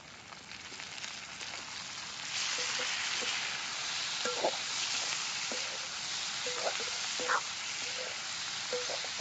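Chopped tomatoes fry in a pan for suran (elephant yam) bhaji, a steady bright sizzle that swells partway through, punctuated by soft clinks and scrapes of stirring.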